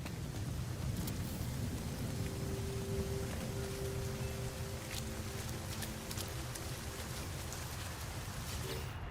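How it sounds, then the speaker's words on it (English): A storm in No Man's Sky brings dense, steady rain noise with a low rumbling roar underneath and a faint droning tone partway through. The storm sounds loud and immersive with no speech. "Weather warning. Incoming storm."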